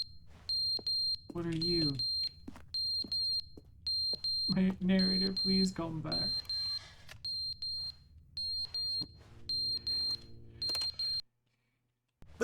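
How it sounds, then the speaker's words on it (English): Repeated electronic beeping alarm in a video game, sounding in steady rhythmic pulses throughout, with a person talking over it in places before it cuts off near the end. "What's that alarm?"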